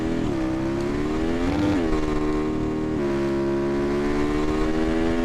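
A motorcycle engine in the Bike Sim Experience video game hums steadily with a rising and falling rev, a brief surge then settling to a constant whining drone, loud and continuous throughout.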